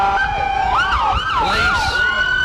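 Several sheriff and police car sirens wail and sweep loudly through a small-town parade, overlapping tones rising and falling continuously at close range.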